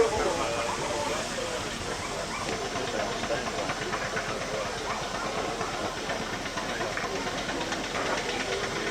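Steam locomotives stand in busy engine shed steaming bays at an open weekend, a continuous broad hiss and rumble of steam with mechanical clatter, steady and fairly loud throughout.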